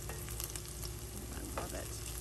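Onions frying golden in a pan give a dense, steady sizzle, close and even, with a faint clink or stir now and then.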